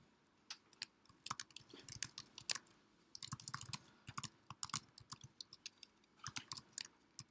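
Someone types notes on a computer keyboard, quick irregular bursts of close, crisp key clicks with brief pauses, faint and alone.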